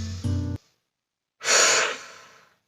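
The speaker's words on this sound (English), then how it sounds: "we'll finish off on one deep breath here" One slow deep breath during a relaxation exercise, a long soft airy exhale heard close and alone after a brief tone, then silence.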